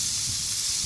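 Loud, steady sizzle of a smash burger patty pressed flat on a hot griddle, a constant bright hiss close up with no talking.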